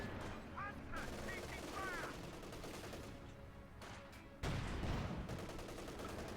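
Tank and machine gun fire in Company of Heroes 2, a Panther engaging infantry: continuous crackling bursts and booms under a busy battle mix, with a heavier blast near the end.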